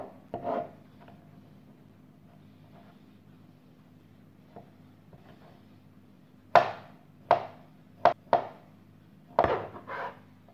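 A knife chops half a beetroot into a fine brunoise, giving a few sparse, crisp cuts against a cutting board with long quiet gaps between them, close by and fairly faint.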